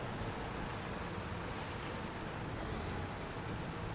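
Truck wading through a rough stretch of river in SnowRunner, a steady dense rush of churning water and engine rumble, loud and continuous with no talk.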